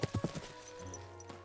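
Horse hooves clip-clop in Kingdom Come: Deliverance II, with a quick run of four or five hoofbeats at the start followed by a lower steady hum and one last faint knock, moderately loud.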